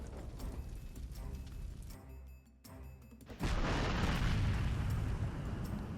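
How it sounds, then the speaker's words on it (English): A Gustav railway-gun artillery strike lands in the strategy video game Panzer Corps 2: after a few seconds of quieter battle ambience, a loud, broad explosion erupts and rolls on with a dense, sustained rumble. "Using the Gustav gun as a kill confirm?"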